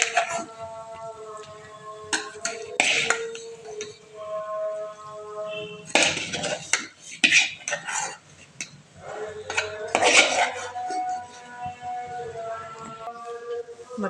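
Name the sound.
mixing ground spice paste in a cooking pot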